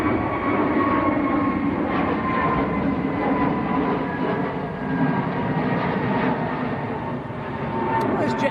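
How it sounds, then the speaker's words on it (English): Jet2 airliner taking off at Manchester Airport, a broad steady engine roar holding loud and continuous throughout, with wind noise and a voice talking over it. "Jet 2, just getting airborne."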